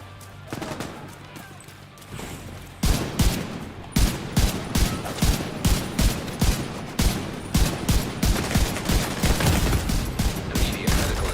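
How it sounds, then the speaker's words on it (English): Rapid semi-automatic M1A rifle fire from a player running and gunning in The Division 2, a steady train of loud, sharp close shots under low game noise, with a few quieter sounds before the firing starts. "What happens when we run and gun with this M1A?"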